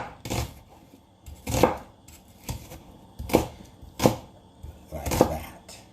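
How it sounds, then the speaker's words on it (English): An onion being chopped with a knife on a board, six sharp, evenly spaced thuds close to the mic with quiet pauses between them. "So once you chop up the onion, you'll have that ready"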